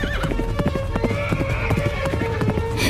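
A horse trots up with steady clip-clop hoofbeats and a brief whinny, carrying a masked young rider in a Hindi folk tale, loud and close over a busy background bed.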